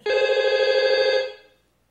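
A single electronic telephone ring sounds clearly and close for just over a second, a bright, buzzing, bell-like trill that cuts off and fades quickly.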